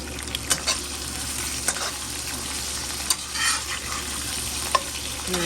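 Shrimp stir-fry in a new wok, with a loud continuous hiss of frying broken by sharp scrapes and clicks of a utensil moving the pieces around.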